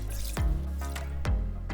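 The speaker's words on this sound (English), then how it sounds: "So I'm gonna add 3 cups of water" Three cups of water pour into an Instant Pot over spread-out rice, a steady splashing stream with two brief gurgling surges, close and moderately loud with no talking.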